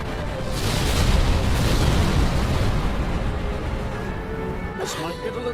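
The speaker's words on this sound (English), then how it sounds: "I call that fire and explosions" Fire and explosions in the Final Fantasy XII video game, a loud sustained rumbling blast with heavy low boom that rolls on for several seconds before thinning out, followed by a brief crackle.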